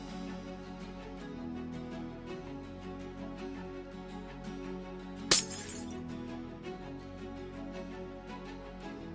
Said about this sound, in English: I kind of like the sound of broken glass